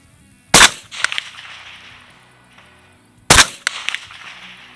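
Two 5.56 rifle shots at a steel target plate, each a sharp loud crack followed by a quick metallic ring, spaced a few seconds apart with quiet between them.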